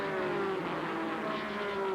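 NASCAR Busch Series race cars at Darlington in 1990, including an Oldsmobile, engines roaring at a distance with a droning, slightly shifting pitch, faint and steady with no talking.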